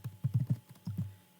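Quick bursts of clicking keys on a computer keyboard as a web address is typed, a few clustered taps, a short pause, then another small run of presses, close and fairly soft.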